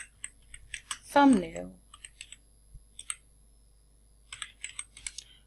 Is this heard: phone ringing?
no